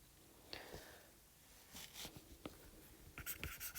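Pen or marker writing notes about blood plasma on a board, a few separate scratchy strokes and taps in a quiet room, with a busier burst of quick strokes near the end.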